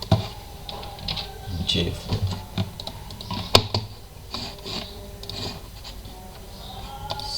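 Computer keyboard typing during a user login in PNET Lab: irregular clicks and taps, close and clear, with occasional louder keystrokes and some talking.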